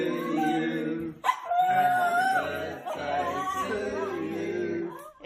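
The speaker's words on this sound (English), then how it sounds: "Anytime its humans start singing, so too does the dog." A dog howls along while people sing happy birthday: long, wavering high howls and whimpering yips blend with the singing voices, close and loud, rising and falling over several seconds.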